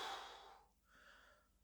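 Slow, controlled breathing, one soft airy exhale followed by a gentle inhale, close and quiet with no other sounds.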